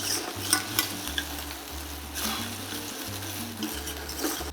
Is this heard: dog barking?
no